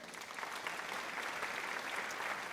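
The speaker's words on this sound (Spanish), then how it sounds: "Pues bríndale un aplauso al que vive." Applause from a church congregation during a sermon by Pastor Ezequiel Riveras, steady and fairly quiet, a continuous wash of many clapping hands heard from a distance.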